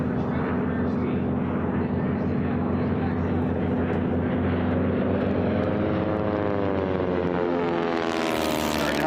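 Racing aircraft at the Reno National Championship Air Races roaring past side by side, a loud steady droning engine tone that rises and sweeps in pitch as the planes close in near the end.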